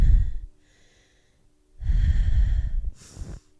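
Deep breathing during a yoga session: a strong audible inhale-exhale at the start, a pause, then a long forceful breath ending in a sharp airy gust, close to the mic with no talk.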